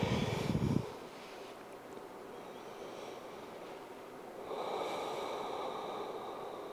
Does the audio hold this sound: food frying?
no